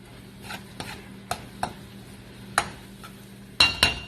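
A utensil scraping and knocking in a pan while Filipino-style spaghetti sauce gets mixed, with scattered clinks and two sharper taps near the end, close by and without talk.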